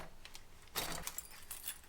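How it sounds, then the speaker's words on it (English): A bunch of scrap keys jangles quietly at close range while scrap metal is being sorted, with a bright metallic rattle in short bursts and one fuller shake in the middle. "More keys. I like keys."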